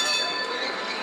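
A tram passing near Croydon, giving a steady, loud metallic rolling hiss with faint high wheel squeal that holds evenly throughout, with no voices.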